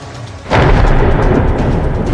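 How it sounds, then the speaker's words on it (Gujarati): A sudden deep rumble of thunder breaks over a steady rainstorm in rural Amreli district, Gujarat, rolling loudly and heavily for a couple of seconds with the wash of rain underneath. "કડાકા ભડાકા સાથે વરસાદના આ દ્રશ્યો છે સાવરકુંડલા, લાઠી અને તેલિયાના."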